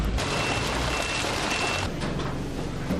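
Garbage collection trucks arriving at a sorting centre for mixed recyclables: a loud, steady rumble of heavy engines with reversing beeps and air-brake hiss close by, no voices.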